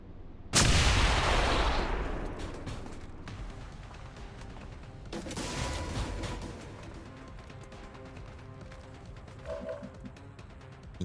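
In XCOM 2 War of the Chosen, a loud, close burst of gunfire erupts and decays over a couple of seconds, followed a few seconds later by a second, weaker crack with scattered clatter and faint background sounds.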